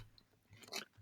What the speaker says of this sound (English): This is the nightmare for anyone listening to a podcast of hearing someone chew.